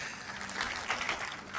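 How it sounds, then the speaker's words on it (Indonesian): Church congregation applauding and cheering in a sustained, dense wash of clapping that holds steady and swells slightly toward the middle, no distinct voices standing out. "Sekali lagi kita berikan sorak-sorai yang meriah bagi Tuhan kita"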